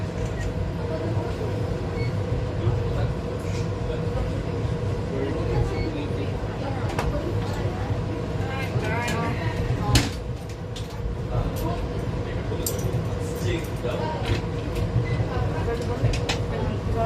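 A train rumbles steadily at Atlantis Station on Palm Jumeirah, heard from inside the car with rattles, clicks and door sounds, while people talk underneath.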